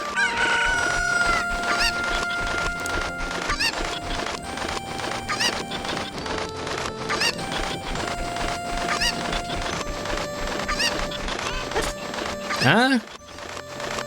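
Chickens from the video game Ocarina of Time cluck and squawk repeatedly over steady rhythmic game music and clopping footsteps, with a sharper rising squawk near the end.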